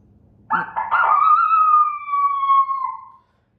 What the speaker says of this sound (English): we're going to do a free coyote, whatever that is